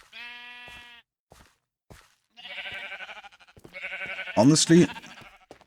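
Sheep bleat in a Minecraft-style dungeon build: a clear harmonic bleat at the start, then a pause and a louder stretch of overlapping game sounds with a sharp bleating burst near the end, while someone talks.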